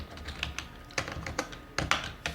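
Light, irregular keystrokes on a computer keyboard as C++ code is typed, scattered single taps and short clusters close and quiet with no talk over them.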